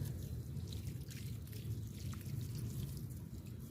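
Homemade buttermilk fertilizer poured from a mug onto a gourd plant, a soft steady liquid trickle and splash heard faintly and close against a low background hum.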